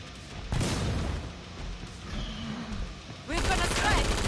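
Gunfire from a player shooting monsters in Killing Floor 2 on PS4 Pro, dense bursts with booms and a heavier volley near the end, amid game effects and some talk.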